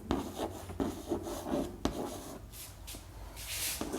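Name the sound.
writing by hand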